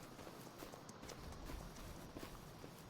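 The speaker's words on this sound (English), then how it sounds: "the horses are out to graze in this area" Horse hooves clip-clop at a steady walking pace in a Farming Simulator 25 farm setting where horses graze, the beats soft and even against a constant background hum.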